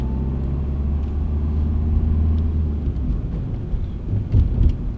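A manual car's engine rumbles low and steady on the road while the driver shifts straight from third to first gear and then into second, with small fluctuations in the drone and no talking.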